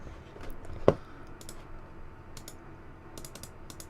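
Plastic Amiga keyboard keys being sorted and handled, giving scattered light clicks and taps with one sharper, louder clack near the start, all close by and with no talk.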